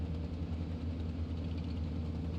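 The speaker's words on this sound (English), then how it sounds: "This is the engine of the Mark I." A Mark I heavy tank engine running, a steady, dense, low rumbling drone with rough vibration, constant and alone.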